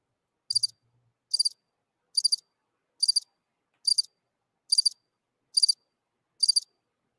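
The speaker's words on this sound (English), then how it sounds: "Crickets. Crickets." Crickets chirp in eight short, crisp bursts spaced evenly about every 0.85 seconds, high-pitched and clear against near silence, with no one talking.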